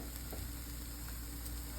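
Finely chopped sweet peppers sizzle in an egg scramble in a hot pan, a steady close crackling fry with a faint hum behind it and no talking.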